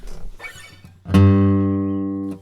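A 1970s Martin acoustic guitar with a nasal tone: a single strummed chord rings out loud and close, sustaining and slowly fading, preceded by faint muffled handling and fret noise.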